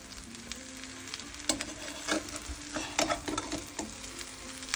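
Kuku sabzi, a Persian herb frittata, sizzles steadily in a nonstick pan, with scattered scraping and clinking from a spatula turning and stirring it.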